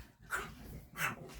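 Dogs named Tia and Boone whimper and whine softly in a room, two faint high-pitched cries a moment apart.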